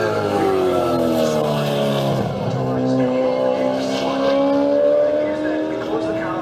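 A Ford Mustang V8 Supercar thunders past at The Bend, its loud V8 howl sweeping down in pitch as it passes close, with the roar sustained throughout and a commentator talking over it.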